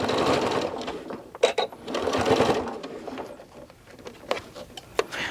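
A sewing machine stitches a towel topper in bursts of fast, close rattling, stopping and restarting with brief pauses and short backstitch runs; no one speaks.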